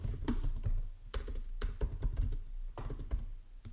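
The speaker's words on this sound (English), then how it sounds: "You get to hear me type on my fresh new MacBook Pro keys." Keys on a new MacBook Pro keyboard are typed on in quick, uneven bursts of light clicks with short pauses between them, close and fairly quiet, with no talking over them.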